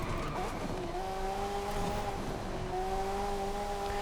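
A car in Forza Horizon 5 drifting downhill on a Euro Cross course: a steady engine drone with rising and falling tonal whine, sliding tyre noise and no pauses across the few seconds.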